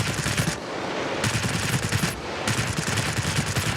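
A Spitfire V fighter plane with a DB 605 engine fires its machine guns in World of Warplanes, long loud continuous bursts with two brief gaps between them and no talking.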